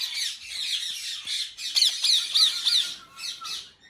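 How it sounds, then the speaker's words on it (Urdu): Several harsh, rasping squawks from a white parrot kept among pet birds, repeated in uneven bursts across a few seconds, loud and close with no talking. "ہاں یہ وائٹ طوطا چیک کرو، بزرگ قسم کا طوطا"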